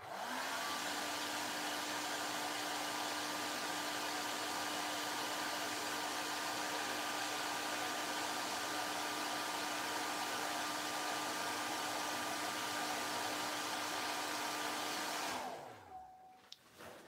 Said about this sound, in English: I don't normally blow dry it or to try to prematurely dry it